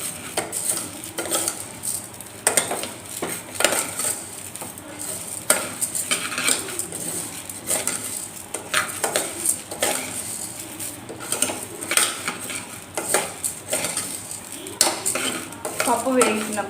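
Dry lentils (dal) for a Telugu mango dal are stirred and fried in a metal pan, with steady scraping and clinking of a spoon against the pan and a light sizzle underneath throughout, with no talking.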